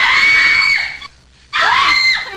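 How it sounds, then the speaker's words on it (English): Two loud, sustained high screams are dubbed into a vampire movie scene. Each cry lasts about a second, with a short silent gap between them. "screams are being dubbed into the scene"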